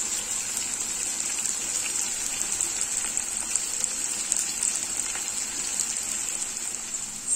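Upma sizzles as it fries in ghee in a pan, a steady close hiss and crackle that runs unbroken throughout with no talking.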